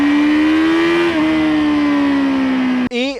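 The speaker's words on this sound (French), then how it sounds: "le moteur avec la technologie ShiftCam, il est rempli en bas et en haut, donc ça marche à tous les étages et ça sonne plutôt sympathiquement" A sport motorcycle engine with ShiftCam technology holds a loud, steady drone for nearly three seconds, pitch sliding slightly, then cuts off and briefly rises again in a short, sharp rev.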